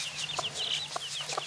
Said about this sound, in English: that's not the inspector, that's a little chicken